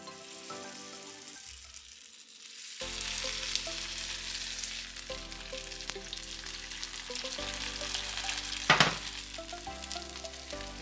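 Tofu hitting hot olive oil in a heated pan, a steady close sizzle and crackle that swells after it goes in, with occasional stirring clinks and no talking.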